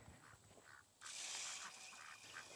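A Pekin duck, a white meat drake, quacks repeatedly at close range in a rhythmic series of short calls, with a burst of louder noise midway and no talk over it.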